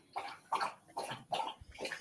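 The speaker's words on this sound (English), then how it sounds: "It's a dog having a drink of water." A dog laps up water close by, with about five quick, evenly spaced slurping laps in two seconds.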